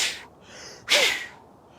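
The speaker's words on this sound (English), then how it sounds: "Wheeze with a little whistle, that's an alarm signal." A deer buck gives an alarm call: a breathy wheeze, then a second louder rasping burst with a faint rising whistle, close and alone with no talk.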